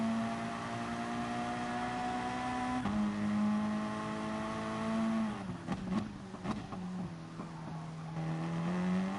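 Race car in a Formula-style racing video game, a steady engine whine holding pitch, then dropping and wavering as the car slides through a turn with scrubbing tyre noise, before settling into a lower steady drone.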